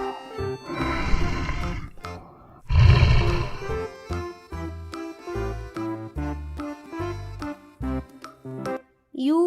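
A tiger roars twice in a children's alphabet song, deep and loud, followed by bouncy music with short rhythmic notes.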